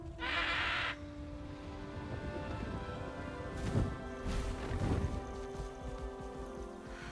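Highwing, the hippogriff from the Hogwarts Legacy video game, lets out a couple of bird-like screeching calls as it arrives, heard over a sustained musical score with an earlier burst of rushing noise.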